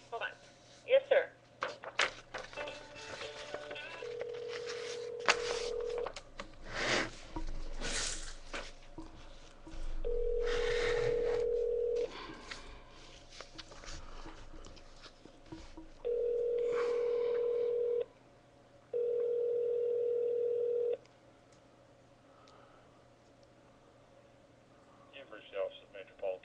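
Telephone line tones during a call transfer to a police department office: several steady, loud beeping tone bursts lasting a second or two each, separated by gaps, over a quiet line with faint background noise and brief voices.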